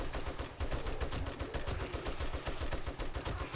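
Rapid bursts of automatic gunfire rattle continuously at a zombie bomber in the survival game 7 Days to Die, loud and dense with steady repeated shots and no talk.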